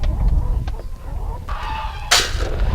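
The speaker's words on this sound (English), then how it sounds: "the simple chicken plays an important role in our ranch life" Chickens on a ranch cluck in short, scattered bursts over low background rumble, ending with a sudden louder flurry of sharp clucking.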